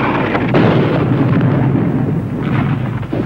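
Continuous rumbling artillery fire and explosions in a World War II battle scene against Japanese forces, loud and dense throughout with no clear pauses and no talk.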